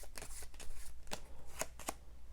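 Tarot cards are shuffled by hand at close range, a run of quick, crisp riffling bursts in uneven rhythm against a quiet room.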